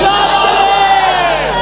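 A large crowd at a religious gathering chants a slogan in unison with raised hands, a loud, sustained massed shout.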